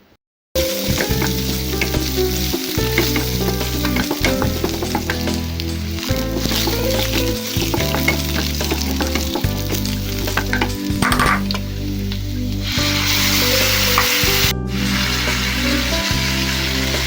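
Onions and masala frying in a pan for a Bengali-style jackfruit curry, a steady close sizzle running throughout with a rhythmic low pulsing pattern underneath and occasional stirring scrapes.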